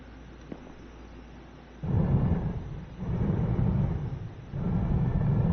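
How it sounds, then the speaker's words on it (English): Thunder in Eden Crafters rolls in a few deep, loud rumbling surges that swell and fade one after another over a quiet background. "Hey, Thunder."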